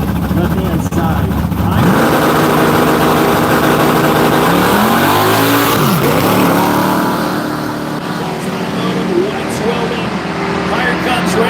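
A 1974 Chevrolet Nova big block running nitrous blasts down a drag strip at a woods racing event, a loud sustained engine roar that rises and shifts in pitch, with an announcer's voice over it.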